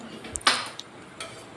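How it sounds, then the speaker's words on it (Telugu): A metal pan clanks down onto a kitchen stove while mushroom curry cooking begins, giving one bright clatter followed by a few lighter taps. "ఫస్ట్గా అయితే ప్యాన్ పెట్టుకోండి, స్టవ్ వెలిగించేసుకొని ఆయిల్ వేసుకోండి."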